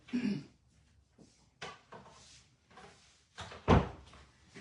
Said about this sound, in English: I think I better close the door